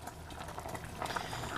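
Water at a rolling boil with spaghetti in a pot on the stove, a steady dense bubbling and popping that grows slightly busier, moderately close, no talking.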